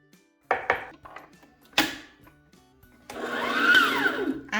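A mixer whirs intermittently in bursts through cake batter of room-temperature butter, sugar and eggs, then runs steadily near the end, with clinks and scrapes of a bowl between.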